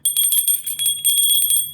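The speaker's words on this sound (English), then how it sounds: "I'm going to ring a bell" A small Statue of Liberty bell rings in a quick series of bright, clear strikes, each chime shimmering and overlapping the next, sounding close and fairly loud with no voices.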